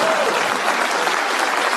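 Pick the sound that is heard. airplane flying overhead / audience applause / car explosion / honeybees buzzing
audience applause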